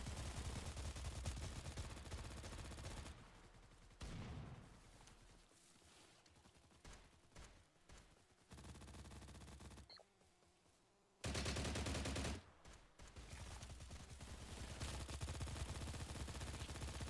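Gunfire from a gun in the online shooter STALCRAFT, bursts of rapid shots broken by short pauses, fairly quiet overall with some louder stretches, no talking.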